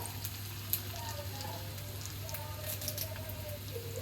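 Dried chillies dropped into hot oil for a simple beetroot curry, a soft continuous sizzle with faint crackles beneath a voice speaking, steady low hum in the background.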